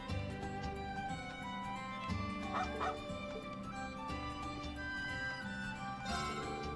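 A puppy barks in a video game, Trails of Cold Steel 3: a few short yips and woofs over a constant layer of game music, moderately loud.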